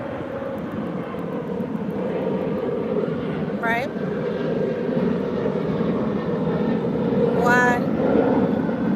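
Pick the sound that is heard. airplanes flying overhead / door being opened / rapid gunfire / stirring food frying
airplanes flying overhead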